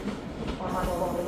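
A Class 385 electric train, units 385007 and 385002 running from North Berwick, pulls into Edinburgh Waverley with a steady rumble of rolling stock and faint wheel squeal, close by and continuous.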